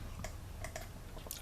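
A calculator keypad pressed repeatedly while a long string of nines is entered, soft fast clicks over a steady background hiss, faint and close.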